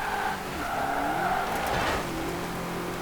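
Drifting car in Forza Horizon 4 during a seasonal championship, with a steady engine drone and a rising tire squeal swelling near the middle before settling back under continuous engine noise.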